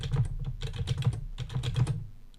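Rapid, steady clatter of computer keyboard keys as a test card number is typed in, close and clear with no talk.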